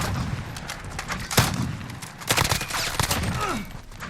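An HK433C carbine rifle firing in Call of Duty Modern Warfare, with rapid clustered bursts of loud, sharp shots broken by short gaps, plus thuds and other game effects underneath.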